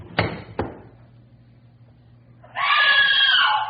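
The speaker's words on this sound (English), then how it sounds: "Why'd you scream?" A woman's scream in an old radio drama, a sustained high shrill cry lasting over a second near the end, preceded by two sharp knocks or thuds and a low steady hum.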